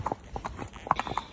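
A single horse's hooves clip-clop on hard ground in an uneven, close rhythm while being ridden during a group hack assessment, with a few faint voices in the background.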